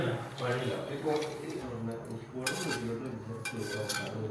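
A spoon stirs garlic fried in sesame oil into a dish, scraping and clinking against the pan continuously while a voice talks over it.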